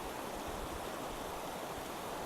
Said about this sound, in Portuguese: tem um regato aqui no fundo